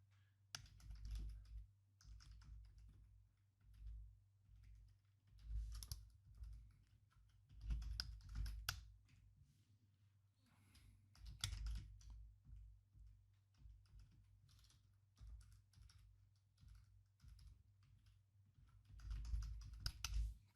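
Keys clacking on a computer keyboard while an email address is typed in, steady bursts of close, crisp keystrokes with brief pauses, no talking.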